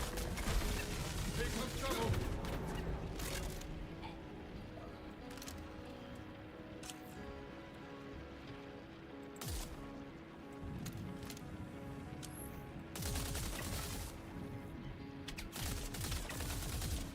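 Video game gunfire crackles in repeated bursts of sharp shots, densest near the start and again toward the end, with sparser single cracks between, all over a steady sustained tonal backdrop.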